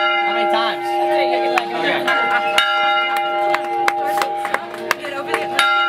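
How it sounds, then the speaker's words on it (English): Bell rung at a wedding, a series of bright metallic strikes at irregular intervals ringing out over a sustained tonal hum, with faint background chatter and a few claps around it. "Go ring the bell."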